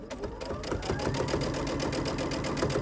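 A sewing machine runs at steady speed stitching through the chunky lining of a witch hat, its fast, even needle clatter loud and close throughout.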